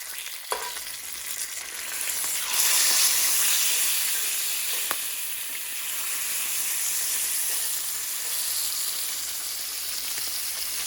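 Bacon frying for a BLT gives a steady, loud sizzling hiss throughout, with a couple of sharp pops and clinks and a brief surge in the crackle early on.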